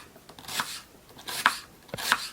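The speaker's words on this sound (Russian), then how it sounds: "Сначала режем лук." A knife chops through an onion on a cutting board in a village kitchen, three crisp separate cuts spaced about half a second to a second apart, close and fairly quiet with no talk.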